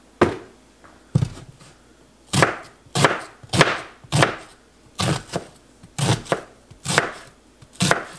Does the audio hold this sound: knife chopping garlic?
yes